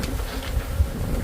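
Killer bees swarm around a large honeycomb laden with honey, their dense, steady buzz loud and close with no pauses.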